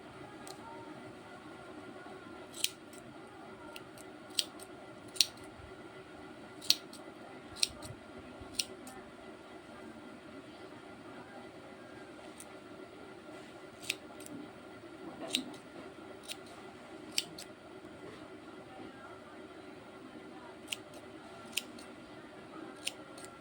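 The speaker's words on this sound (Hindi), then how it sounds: "अब हमें इसे बराबर करके काट लेना है।" Small scissors snipping crochet yarn for a Lily of the Valley keychain, a scattered series of short, sharp clicks over about twenty seconds against a faint steady background hum, quiet and close.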